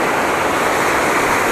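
Broad, steady roar of rushing floodwater tearing through a damaged roadside area after a cloudburst in Uttarakhand during the monsoon, loud and continuous with no break across the moment.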